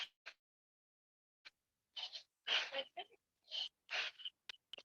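Bhastrika pranayama breathing done with lighter strokes: a series of short, breathy inhale-exhale bursts, some single and some in quick clusters, with gaps of silence between them.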